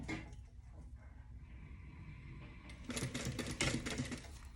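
A sewing machine stitches along the bottom fold of a fabric tote bag, first a faint hum, then a louder rapid mechanical chatter of needle strokes in the last couple of seconds, close by.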